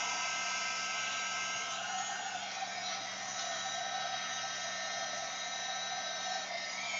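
A heat dryer runs in one steady, loud, unbroken whoosh, drying wet paint on an art journal page at close range with no pauses and no voices.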